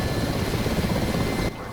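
Steady, loud rotor and turbine drone of a Ka-50 Black Shark attack helicopter in the DCS combat flight simulator, continuous throughout and cutting to a quieter level near the end, with no talk over it.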